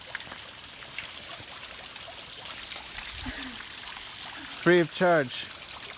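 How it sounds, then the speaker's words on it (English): Water from an outdoor shower on the Appalachian Trail trickles and splashes steadily in the open air, a soft continuous hiss heard beneath a man's brief speech. "You can take a shower right here."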